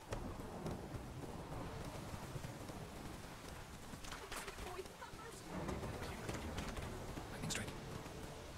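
Thunder from a lightning strike in The Witcher 3 video game rumbles low and heavy amid steady rain, with a deep roll building through the middle and some faint voice underneath.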